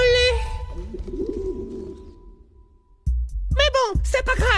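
A pigeon coos in soft, low, rolling calls, close by and clear, while a voice talks over parts of it.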